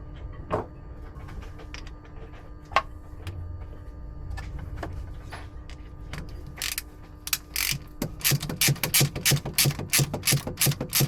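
A ratchet wrench clicks as it tightens fittings on a boat's propeller shaft, starting with sparse scattered clicks over a mechanical hum, then breaking into a fast, loud, steady run of ratcheting strokes, close by.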